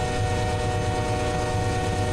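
An intermodal freight train running at about 60 mph downhill, a dense, loud, steady roar of wheels and locomotive with no breaks, heard close up.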